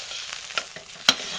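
A homemade laundry soap mixture cooking in a pot is stirred, giving soft scraping swishes over a steady sizzling bubble, with a couple of sharper knocks, close and alone without speech.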